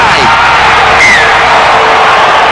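At a rugby league match, Super League 1997, Broncos versus Cowboys, spectators leap up and scream after a try, a loud wash of crowd noise with whoops and yells rising above it.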